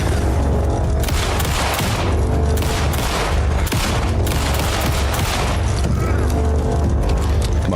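Gunfire in Alan Wake 2, a loud burst of rapid, overlapping shots and booms over a dense, continuous backdrop, with a voice mixed in under the noise.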